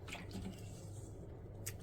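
Grated potatoes being rinsed and swished in a bowl of water, a soft continuous sloshing and dripping close by, fairly quiet with no talk.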